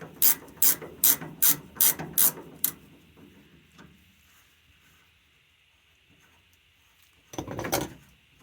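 Ratchet wrench turning a bolt in a quick run of about seven loud, evenly spaced clicks, then quiet with a faint hum, and one final short burst of ratcheting near the end.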